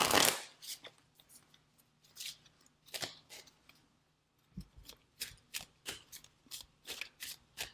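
Kipper fortune-telling cards are shuffled by hand in repeated crisp riffling bursts, close and fairly quiet, with a short pause midway before a quicker run of rhythmic shuffles.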